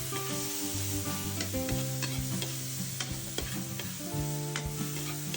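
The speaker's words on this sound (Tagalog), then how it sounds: "Halu-haluin lang hanggang sa maluto na." Ararawan stir-fries with soy sauce in a pan, a constant close sizzle broken by repeated metallic clanks and scrapes of a spatula stirring, with no voices.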